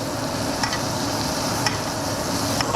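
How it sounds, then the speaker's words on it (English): A steak basted in butter in a pan sizzles steadily up close, with faint spoon clicks at a few points and no talking. "Gonna baste it a lot, not a couple times,"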